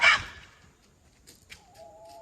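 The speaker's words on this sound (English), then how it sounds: "We brought a rooster into the flock, as you can see back there" A rooster newly brought into a backyard flock with chickens sounds one loud squawk at the start, followed by soft, scattered clucks and faint bird sounds farther back.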